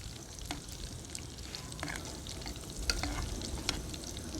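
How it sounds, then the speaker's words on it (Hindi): Sweet tilia frying in desi ghee, a steady close sizzle with small crackles and scattered pops and no voices. "ये मीठा तेलिया जो है मैं देसी घी में फ्राई कर रहा हूँ।"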